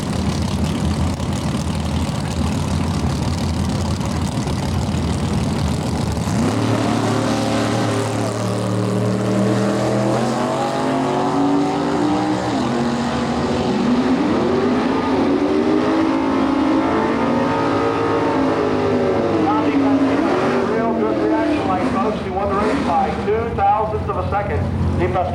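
Drag race cars roar at an NHRA divisional dragway event, with Tom DePascale's Chevrolet Vega wagon in the field: a loud continuous engine drone that rises and shifts in pitch over half a minute, running under announcer talk.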